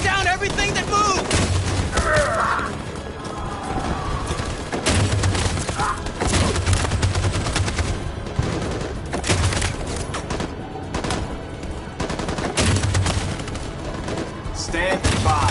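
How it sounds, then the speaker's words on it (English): Sustained machine gun and gunfire barrage in a console war game on PS4, dense and loud throughout with repeated booming thuds, while voices shout over the battle. "That machine gun is taking down everything that moves!"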